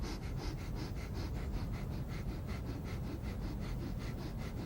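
Short, rapid breaths repeated in a steady fast rhythm during a gong yoga exercise outdoors in Central Park, loud and close, with no talking over them.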